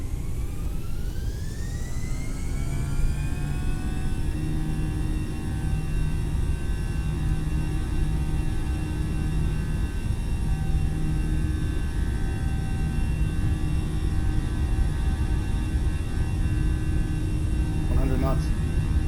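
Airbus A320neo jet engines spool up in flex takeoff thrust in Microsoft Flight Simulator, a loud continuous roar with rising whine tones that settle into a steady drone, with a voice calling out speeds over it.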